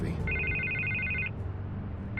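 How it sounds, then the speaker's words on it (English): A telephone rings in the Batman Telltale game, two bursts of an electronic trilling bell separated by a short pause, over a low steady background hum. "I can't get the phone to stop ringing"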